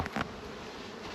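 Honeybees buzz at a swarming hive, a dense continuous drone of many insects heard close up with no voices over it.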